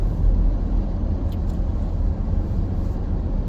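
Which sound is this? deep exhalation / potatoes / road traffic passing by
road traffic passing by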